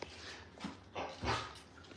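A dog in the bath gives a few faint, short whimpers and soft yelping barks, quiet and spaced out over a couple of seconds.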